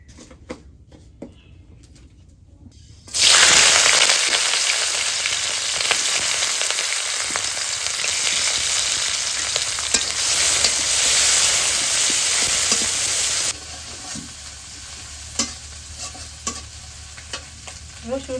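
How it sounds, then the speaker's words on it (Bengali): Whole spices crackle and sizzle as they hit hot mustard oil for a ridge gourd dish, a sudden loud, steady frying hiss that holds for about ten seconds before dropping to a quieter simmer. "ফোড়ন দিয়ে দিই।"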